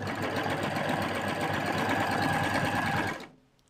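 A serger stitching back over one or two centimetres of an already sewn seam on fabric, a loud steady close mechanical whir with rapid needle rhythm that runs continuously, then stops abruptly near the end.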